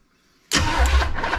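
A 1973 Chevy Nova engine, parked for 37 years, suddenly catches on brake cleaner after near silence, a loud abrupt burst of rough running that carries on briefly.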